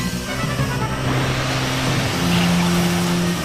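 A futuristic racing machine in F-Zero 99 boosts along the track, a dense rushing whoosh of engine noise with a steady tonal hum that swells louder midway through.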